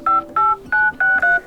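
Dial pad tones from a Motorola One Action phone: five short electronic beeps in quick, slightly uneven succession, clear and close with nothing else around them.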